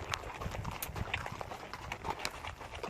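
Horse hooves clip-clop in a steady uneven rhythm during a trail ride in South Texas, the close hoofbeats repeating throughout with no talk over them.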